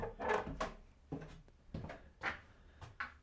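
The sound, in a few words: creaky wooden cellar stair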